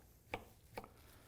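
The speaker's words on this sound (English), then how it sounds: "chopping them up" Two crisp knife chops through pear chunks on a cutting board, spaced about half a second apart, faint and isolated in a quiet kitchen.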